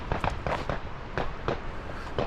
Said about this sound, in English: Just by a military firing range here and they're firing off some rounds